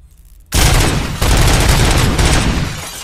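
Sustained loud burst of automatic gunfire aimed at a turret in the video game RoboCop: Rogue City, starting abruptly after a short quiet moment and continuing dense and close to the end.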